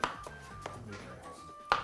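A knife chops ingredients for spinach spaghetti on a board, giving a few sparse, close, soft knocks, quiet overall.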